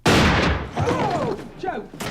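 A single loud, close gunshot in the crime film Snatch, a sharp blast that rings off quickly, followed by voices talking.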